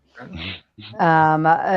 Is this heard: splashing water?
no